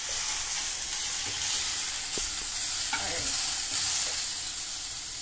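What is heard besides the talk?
ingredients frying and sizzling in a pan for Pad Thai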